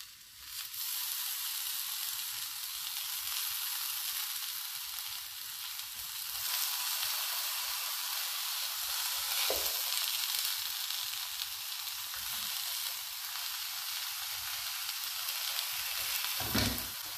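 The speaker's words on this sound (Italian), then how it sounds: "La padella è bella rovente, non dobbiamo ungerla, mettiamo direttamente in cottura le melanzane." Eggplant slices sizzling in a very hot, ungreased nonstick pan, a steady close hiss and crackle of frying that holds continuously throughout, with a couple of faint clunks and no speech.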